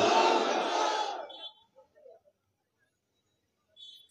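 A crowd of worshippers at an Islamic sermon roars a takbir in unison, a loud, full-throated shout lasting about a second and a half before cutting off into near silence with a few faint stray sounds.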